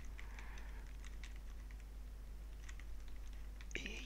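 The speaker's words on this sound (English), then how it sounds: "I'm playing on keyboard because I'm old school" Keys clacking on a BBC Micro keyboard during a game of Elite, quick irregular taps over a steady low hum, with a brighter burst of sound near the end.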